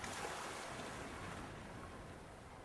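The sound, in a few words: pouring water out of a bucket, Secret Files 2 video game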